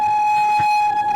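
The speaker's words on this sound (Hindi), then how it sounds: "बहुत ही ताबड़तोड़ ट्रेन आई है, बहुत ही तेज़ आई है ट्रेन" An Awadh Assam passenger express rushing along between Bareilly and Rampur gives a steady, loud, high tonal whine over a low rail rumble, with a brief thump midway, for just over a second.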